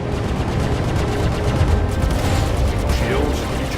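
Sustained rapid gunfire striking spaceship shields in the video game Star Citizen, a dense continuous barrage of impacts and rumbling with no letup, loud and close.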